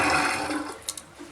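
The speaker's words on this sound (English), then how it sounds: "I might have to flush the toilet once in order to get this" A household toilet flushes with a loud rush of water that slowly fades, while a couple of small clicks sound near the end.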